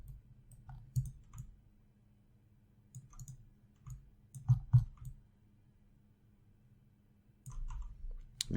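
Scattered clicks of computer keyboard keys and a mouse during 3D modeling work in Maya on a Mac, coming as sparse single taps and small clusters separated by quiet gaps.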